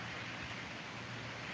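Steady rain falls on a grim winter day, a constant even hiss of drops with no breaks, fairly loud and close, alone without voices.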